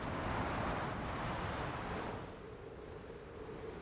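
Ocean surf and tide wash steadily in a soft broadband roar with wind, fairly faint, easing slightly midway, no voices.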